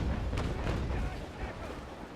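A broadside of 6-pounder long cannons fires from a sailing warship in Naval Action, heavy booms rolling together at the start and fading into a rumbling echo.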